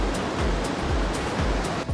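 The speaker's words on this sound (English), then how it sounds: "And the waves are just beautiful this morning." Ocean waves washing onto a beach on a gray, cloudy morning, a steady close roar of surf with soft swells rising every half second or so, with no voices.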